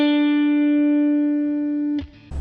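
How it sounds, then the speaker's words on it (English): A single guitar note, fretted and picked the standard way, rings out clean and sustained for about two seconds before fading, followed by a brief handling noise at the end. "You press just behind the fret, play the note here with your thumb or your finger or a pick."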